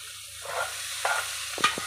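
Cabbage curry being stirred in a pan, with soft scraping strokes and a few sharper clinks of the spoon against the metal over a faint sizzle, close and fairly quiet.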